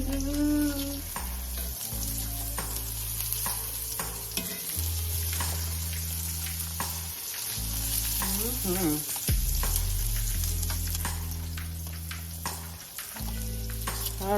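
Salmon frying in a pan for a creamy salmon pasta, a loud continuous sizzle with crackling spatters close up, carrying on steadily alongside low background tones.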